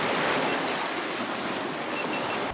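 Sea waves slapping against a fishing kayak off Werribee, with a steady broadband wash of surf and wind buffeting the microphone throughout, loud and close.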